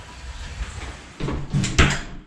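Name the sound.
door closing into a newly cut recess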